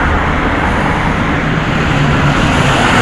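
A garbage truck passing on the road makes a steady, loud, close rumble with broad roadway roar and no gaps, with no voices over it.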